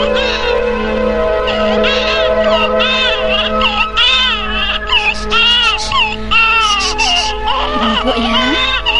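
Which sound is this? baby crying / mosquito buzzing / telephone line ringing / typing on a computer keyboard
baby crying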